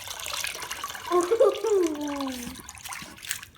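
Water runs steadily over a painted deer skull being rinsed clean, a soft splashing wash, with a brief exclaiming voice over it.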